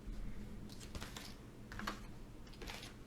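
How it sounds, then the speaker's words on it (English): Tarot cards spill and scatter across a surface in a soft, quiet flurry of light flicks and taps over a few seconds. "Cards went everywhere."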